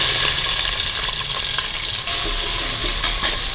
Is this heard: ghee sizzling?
yes